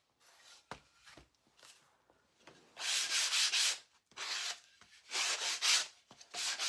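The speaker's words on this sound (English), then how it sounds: "I am gonna just lightly sand over this real quick" A wooden angel cutout is sanded lightly by hand in short bursts of dry, hissy rubbing. The strokes start faint and scattered, then grow louder and longer, with brief pauses between them. Nobody speaks.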